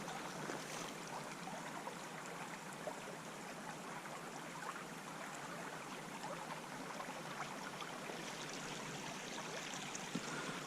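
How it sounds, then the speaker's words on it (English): A small wild brown trout stream flows steadily, a continuous broad rushing and trickling wash of water, close and even throughout with no voices. "I'm out on wild streams like this"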